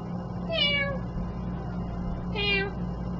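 A long-haired cat meows twice, about two seconds apart, each call a clear, fairly close rising-falling mew over a steady low background hum.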